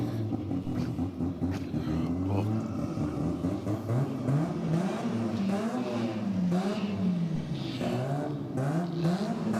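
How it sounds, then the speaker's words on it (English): A cranky rotary-engined race car fires up and revs below a trackside vantage point, its rough, rising and falling engine note steady and prominent throughout, with faint commentary underneath. "the sound of a very cranky rotary fires up just below us"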